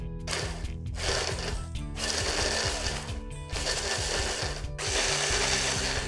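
A motorized kitchen chopper whirs loudly as it chops chilies, a buzzing, rattling drone broken by several short pauses between pulses.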